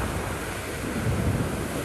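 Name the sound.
strong winds and waves hitting an oceanfront hotel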